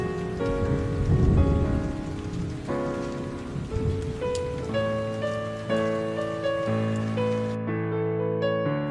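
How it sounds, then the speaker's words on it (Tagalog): Steady rain pours in a Roblox Brookhaven roleplay game, a constant close patter of drops under sustained tonal background music that cuts off near the end. "Grabe, ang bilis bumagsak ng ulan ah."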